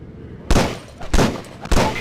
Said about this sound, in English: You are holding the Beretta Model 92, or otherwise known as the M9. Shoot a few rounds down the range.